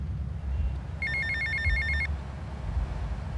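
A phone rings in Grand Theft Auto: Vice City, a clear electronic trill of rapid pulsed beeps lasting about a second over a steady low game rumble, with no talk.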